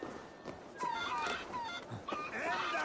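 Fighting roosters in Assassin's Creed Valhalla, with several bright crowing and squawking bird calls rising over a busy game background of movement and murmur, recurring through the short stretch at close range.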